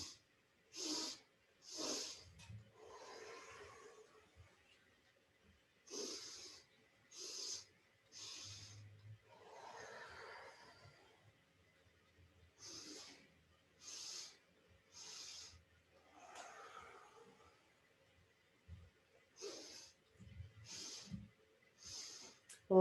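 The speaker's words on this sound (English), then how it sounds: "inhale, inhale, exhale" Sharp nasal inhales and exhales in a yoga class breathing exercise, done in quick sets of three sniffs then a longer breath out, close and clear, with an instructor's soft voice between breaths.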